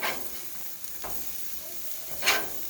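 Frozen Angus beef patties on a grill with hot spots hiss and sizzle steadily up close as they are flipped, with a couple of brief louder scraping sizzles.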